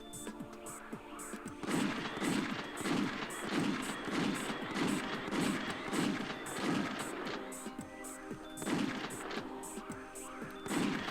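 Rhythmic gunfire from the PS1 video game Alien Trilogy, a steady run of repeated shots at an even pace, fairly loud over a busy game soundscape with no talking.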